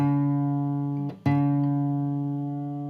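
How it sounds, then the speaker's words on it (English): A sustained guitar D string note ringing clearly, briefly re-plucked midway, then continuing to sustain with a slight pitch settling as it's tuned. "So let me tune this D string back up."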